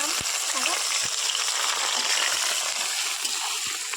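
Onions sizzle and fry steadily in a hot pan with whole garam masala, a continuous crackling hiss with a few soft knocks and stirring clinks throughout.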